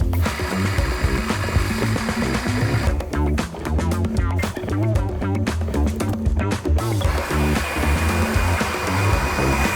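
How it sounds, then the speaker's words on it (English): A grain mill grinds Pilsner malt and malted wheat with a loud, steady mechanical whir and hum, briefly broken by a stretch of rattling, clattering grain before the even drone resumes. "So let's grind some grains."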